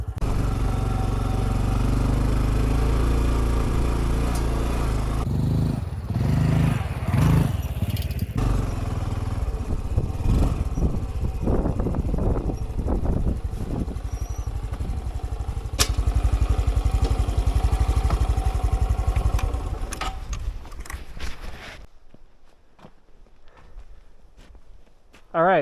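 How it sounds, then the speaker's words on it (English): A little motorcycle with high clearance rides a rough dirt track toward a mountain trailhead near Area 51. The engine drones steadily close by under bumps and rattles, then cuts out near the end and leaves near silence. "You either have to have really high clearance or a little tiny motorcycle like I do."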